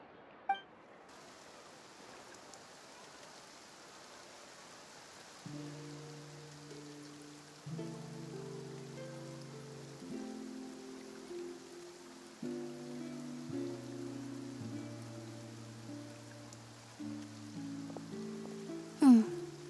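Rain falling in the game Genshin Impact, a steady soft patter of drops that holds throughout, joined partway by layered musical tones and a short bright chime near the end.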